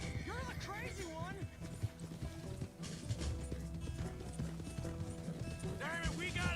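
Horse hooves clip-clop at a steady galloping pace in the Red Dead video game, loud and continuous beneath game music and people talking over it.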